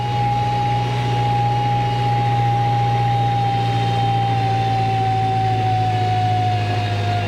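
A heavily loaded truck's engine drones steadily, near and loud, as it slows and shifts down to third gear, with a low hum and a faint whine holding throughout.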